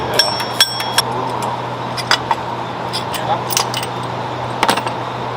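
A cast aluminum bracket being pulled out during a supercharger install on a 2022 Ford F350 Super Duty 7.3L Godzilla V8, giving scattered light metallic clinks and taps over a steady low hum.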